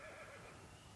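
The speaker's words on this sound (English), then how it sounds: "Bit of a horse over yonder." A horse whinnies at a distance outdoors at night, one faint, wavering neigh over a steady low background hiss.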